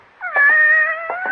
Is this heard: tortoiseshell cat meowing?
yes